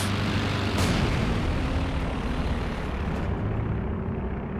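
A recon plane drones overhead in Company of Heroes 2, a steady, fairly loud propeller engine rumble amid dense battle noise, with no talk.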